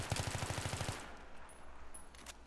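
A short burst of rapid automatic gunfire in the video game Battlefield 2, about a dozen sharp evenly spaced shots in under a second, followed by fading echoes and faint clinks with no talking.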